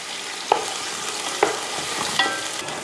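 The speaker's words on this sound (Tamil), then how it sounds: "வெங்காயம் தனியமாக எடுத்திங்கன்னா ஒரு 3 பெரிய வெங்காயம் நல்லா பொன்னிறமாக வதங்கட்டும்" Three large onions frying in oil until golden, a steady broadband sizzle with a few soft stirring knocks spaced through it, close and continuous with no talking.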